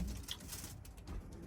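Racing pigeons coo softly in a breeding loft, a steady low murmur of overlapping calls with no talking.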